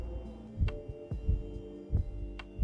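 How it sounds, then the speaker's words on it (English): Heart pounding in the video game Insurmountable when the climber runs out of energy, a heavy low double-thump beat repeating at an even rhythm over a faint hum. "we're out of energy, so you can hear that heart pounding"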